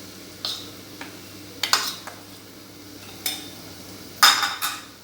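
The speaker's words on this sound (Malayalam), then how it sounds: "എന്നിട്ട് അതും നന്നായിട്ട് വഴറ്റണം" A spatula scrapes and clinks against a pan as onions sauté with chili and turmeric, a few sharp metallic taps scattered over a faint, steady low hiss.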